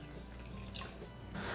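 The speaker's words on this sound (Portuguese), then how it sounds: "Eu vou acrescentar água só até cobrir." Tap water runs steadily into a pot of peeled potatoes, a continuous splashing stream with a brighter gush near the end, fairly quiet and with no voices.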